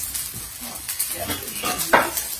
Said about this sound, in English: You can literally just hear the rice popping.